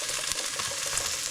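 Fish sauce sautéing in a hot pan while cooking tinola, giving a steady, close sizzle and frying hiss with faint stirring, no voices.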